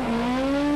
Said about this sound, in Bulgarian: това е специално подготвено БМВ за писта